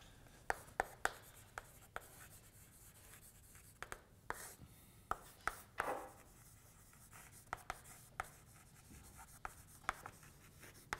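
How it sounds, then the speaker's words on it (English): Writing on a board during a physics lecture, scratchy strokes and sharp taps come in irregular bursts over a quiet room hum, with no speech. "So let me just write this."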